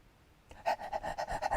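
A person imitates a dog panting, producing rapid, rhythmic, breathy huffs that start abruptly and continue steadily, close and fairly loud.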